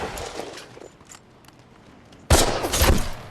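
Sudden burst of rifle fire from a Band of Brothers war episode, a loud close volley of several cracks that erupts after a quieter stretch with faint background sounds.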